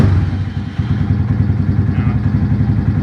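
A Venom Ghost 250cc motorcycle engine runs at idle close by, a steady low chugging pulse with light mechanical clatter and a small rev dip near the start, with no talking.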